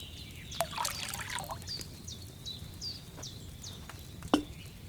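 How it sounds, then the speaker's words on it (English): Water pours into a cauldron in Kingdom Come Deliverance 2, a faint trickling splash over a low ambient bed, with a few soft bird-like chirps and clinks in the background. "First, you have to pour the right base into the cauldron."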